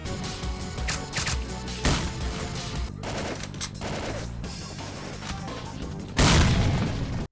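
Rapid bursts of gunfire mixed with heavy booming grenade blasts in the video game S.T.A.L.K.E.R., ending in one loud, close explosion.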